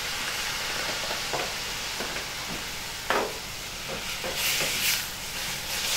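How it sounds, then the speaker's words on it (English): Fresh chopped tomatoes tipped into a hot pan, giving a steady, close sizzle and hiss with soft stirring scrapes that grow a little brighter toward the end. "I'm going to add my fresh chopped tomatoes"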